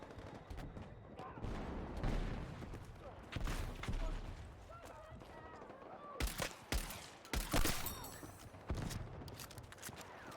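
Shotgun blasts in a Battlefield 6 multiplayer match, several sharp reports scattered over constant battlefield noise and distant gunfire, with voices talking throughout.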